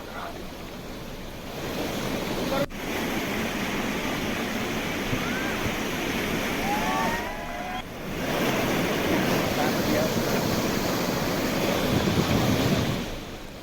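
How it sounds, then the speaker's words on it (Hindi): A rain-swollen river in flood, surging with strong waves, makes a loud continuous roar and rush of churning water heard up close, with no talk. "बारिश की वजह से नदी उफान पर है और फायर सर्विस के जवान ने तेज लहरों के बीच में जाकर रेस्क्यू कर डॉग को सुरक्षित बाहर निकाला।"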